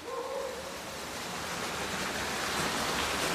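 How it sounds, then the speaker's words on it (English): Meltwater rushes steadily down a shaft inside a glacier, a loud, continuous broadband roar of churning water close by with no pauses. "Having descended into the water well, Luke can see how quickly the meltwater is chiseling into the ice."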